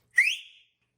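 A person gives a single short, loud whistle to call a dog, a sharp rising tone lasting about half a second with nothing else around it.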